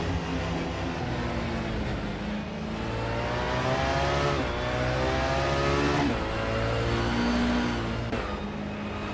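Racing cars, including a BMW 320 SI, in a racing video game, engines revving and shifting in rising and falling sweeps as they accelerate through gears, loud and continuous, without speech.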